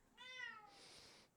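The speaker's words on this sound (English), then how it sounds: "This is my old cat." An old pet cat named Chiku gives a single drawn-out meow that slides downward, then fades into a breathy hiss-like exhale; close and clear, with no talking.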